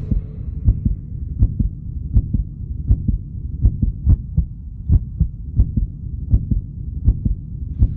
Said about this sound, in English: This is a human heart. You've got one like that, beating in your chest.